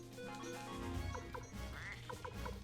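A duck quacks in Suikoden 1 HD Remaster, a few short nasal calls over steady game music.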